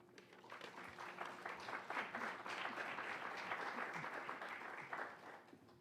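An audience at an evening art talk applauds steadily to welcome a speaker to the stage, a dense, even wash of clapping that holds for about six seconds at moderate volume.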